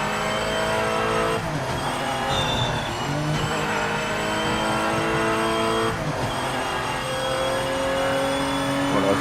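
Race cars in the Project Motor Racing game on a short circuit, engines droning loud and steady with shifting whining tones and revving, no talk over them.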